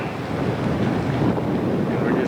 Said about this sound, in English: I'm standing on the ferry that goes across the St. Lawrence River, and we're just moving away from the dock